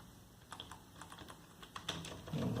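Typing on a computer keyboard, with light irregular key clicks in short bursts, faint and close, followed by a slightly louder rumble at the end.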